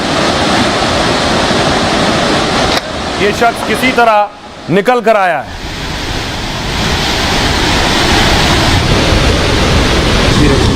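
Floodwater after continuous rain in Dehradun roars steadily and loudly around a stranded vehicle, a broad rushing wash that briefly drops out while someone speaks over it, then returns.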